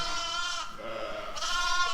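Sheep in a pen, about a dozen ewes with their lambs, bleat close by in overlapping, wavering cries, with a short dip between two loud calls.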